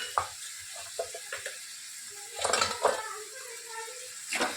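Spices being stirred into frying onions in a pan: a soft sizzle underneath scraping spoon strokes and clinks against the metal, close by, with no talking.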